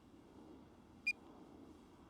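A DJI Mini 3 Pro drone gives a single short, clear electronic beep as its camera shutter fires, heard faintly over a quiet low hum.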